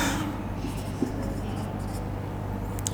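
Marker or chalk scratching across a board during a physics lesson, a steady continuous scrawl over a loud hum, with faint speech.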